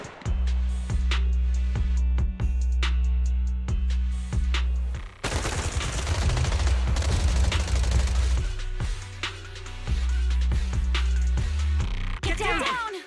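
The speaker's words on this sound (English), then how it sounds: "Gunfire? This pattern. Suppressive marching fire." Rapid suppressive marching gunfire in the video game Zenless Zone Zero crackles in steady rhythmic bursts, then swells into a dense, chaotic barrage before settling back into repeating volleys.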